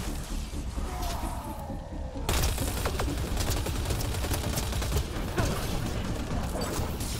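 Dense, continuous volleys of gunfire in the Mass Effect Andromeda video game, rapid sharp shots layered with mechanical clatter, getting louder and denser after a brief quieter opening.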